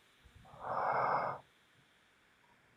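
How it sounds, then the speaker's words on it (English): A single heavy, breathy exhale or snort swells for about a second close to the microphone, then drops to quiet room hiss. "Heavy breathing."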